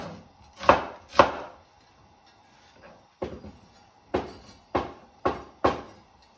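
A knife chops aromatics into small cubes on a cutting board for Chinese-takeaway-style ma po tofu, seven sharp, separate knocks in uneven pairs and singles, close and clear with no talk.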